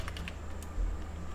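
Typing JavaScript code on a computer keyboard: a few quick, light key clicks in a short cluster near the start, then faint, softer taps over a low room hum.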